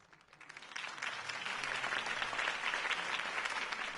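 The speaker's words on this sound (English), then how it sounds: "could have heard that applause" A crowd breaks into applause after a Harvey Dent campaign speech, starting thin and quickly swelling into steady, dense clapping that holds at full strength to the end.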